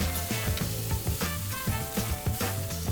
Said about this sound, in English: Gently lay the steaks down on the grill, giving them a quick press to ensure good contact with the cooking grills.